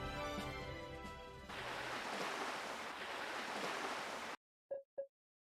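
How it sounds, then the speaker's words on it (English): Ocean waves and surf wash continuously as ambience in the video game Vestaria Saga 2, beginning under a fading musical tone and then cutting to silence, followed by two short voiced grunts. "Are those waves I hear?"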